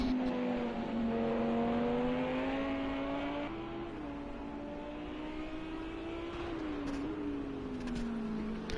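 A GP3 race car engine revs during a practice session at Fuji, the pitch climbing and dipping through gear changes as the car pulls away, loud and sustained with no talk over it.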